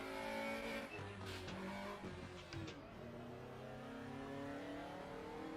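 A race car engine in RaceRoom sim racing revs and climbs through its gears, with pitch rising and then dropping at each shift in a steady rhythm, loud and continuous throughout.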